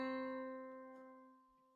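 A single sustained C note played in a higher octave, with a clear, steady tone that fades slowly and quietly, and nothing else heard.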